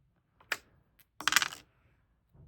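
Two standard dice rolled for the wizard's move in a solo HeroQuest Travel Edition game, giving a couple of short, sharp clatters on a hard surface followed by a faint final tap.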